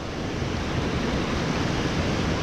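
Waterfall at an old broken mill in Mansfield, Indiana, a loud steady broadband rush of falling water with no pauses and no voices.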